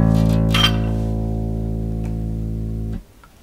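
An open A string note is plucked on a bass guitar with a bright attack, sustaining evenly for about three seconds before being muted, with no voices.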